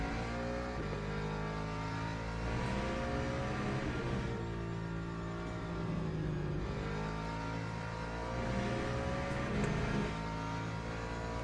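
A Ferrari race car engine in the Le Mans Ultimate racing game drones and revs steadily, its pitch climbing and falling through gear changes in a continuous, moderately loud whine.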